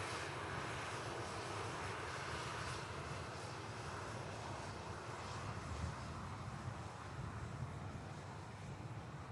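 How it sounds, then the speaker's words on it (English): A Boeing 777 arriving at Manchester Airport gives a steady, distant jet roar and rumble that holds broadly even throughout, with no voices. "The second 777 that's arrived whilst we've been here this morning."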